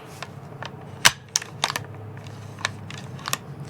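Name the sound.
Arisaka rifle turn bolt being worked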